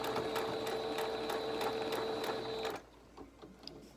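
A sewing machine runs steadily back stitching fabric pieces of a medical mask with filter pocket and metal nose piece, a close rapid whirring hum that stops abruptly near the end, leaving quiet room tone.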